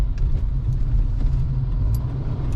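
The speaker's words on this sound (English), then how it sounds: "the traffic is piled up for no freaking reason" Low, steady rumble of idling and slowly creeping cars in a roadway traffic jam, a continuous engine drone close by with faint higher noises, no talk.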